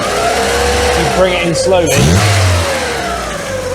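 Volkswagen engine that is running on only three cylinders revs up hard after the accelerator pump is kicked, then gradually settles back, with someone talking over it throughout.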